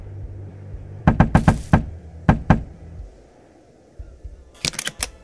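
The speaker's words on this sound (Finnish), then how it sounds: "Pitää koputtaa tälle." Knocking on a cottage door in Finnish Cottage Simulator: a quick run of sharp raps, a pause, two more knocks, then after a quiet stretch another brisk cluster of knocks.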